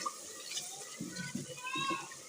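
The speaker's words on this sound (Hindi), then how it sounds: "ये इस स्टेज पे आप लोग डाल सकते हो पानी, ताकि मसाला ना जले" Water is poured into a chicken karahi masala as it cooks, producing a soft, uneven splashing and gurgling that builds toward the end and stays fairly quiet.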